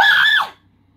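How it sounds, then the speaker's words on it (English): A single short, high-pitched scream rings out loud and close, then cuts off after about half a second into near silence. "I'm just casually screaming"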